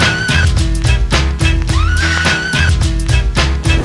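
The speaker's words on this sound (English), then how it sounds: "Tour de France, riders in full flight when a literal horse clears a fence and joins" A horse whinnies loudly twice as it jumps a fence and runs among Tour de France riders, its high neighs rising above a steady rhythmic rumble and clatter of the race.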